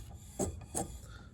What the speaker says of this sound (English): Spokes are rubbing just right there.